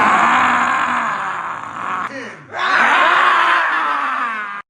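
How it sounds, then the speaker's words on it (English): A person wearing a blindfold yells at full volume in a long, strained, groaning cry, breaking off briefly midway before resuming just as loud and then cutting off abruptly, close and alone without other talk. "What does that have to do with yelling with a blindfold on?"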